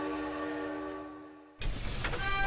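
A large train in Dragon Quest Treasures sounds a sustained, steady whistle-like horn tone that cuts off, followed by a louder burst of rumbling rail movement and mechanical noise.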